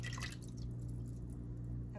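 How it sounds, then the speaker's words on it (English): Soy milk pours into a soup pot of vegan broccoli cheddar soup, a faint continuous liquid splashing and trickling under a steady low kitchen hum. "Next, we're gonna add in some soy milk."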